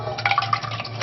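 Liquid poured into a pan for eggs in purgatory in a tiny kitchen, a short, steady splashing pour with faint clinks of cookware, close and fairly loud, with no talking.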